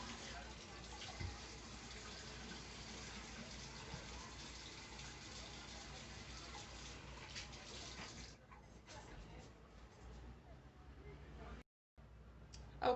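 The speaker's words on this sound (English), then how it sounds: "I was washing the tomatoes and cutting off the portion of the tomato that I'm not going to use" Steady rushing tap water pouring into a sink while fresh garden tomatoes are washed, a constant close splashing flow with a brief cut near the end and some faint talk underneath.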